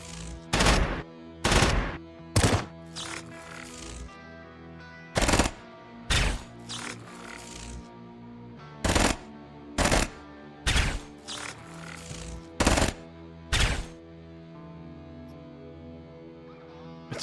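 Automatic weapon fire in the video game Quasimorph, a gun emptying its whole magazine in repeated loud bursts of shots spread across the clip, with mechanical clatter between the volleys.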